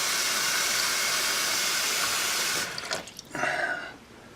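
Water drains steadily from a household sink in a broad, continuous rush, then breaks into gurgling, sputtering bursts near the end.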